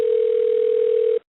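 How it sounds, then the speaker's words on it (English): A steady electronic telephone tone on a radio show's call-in line, one continuous loud note held for just over a second and then cut off abruptly, alone with no voices. "I don't know what the ringing is"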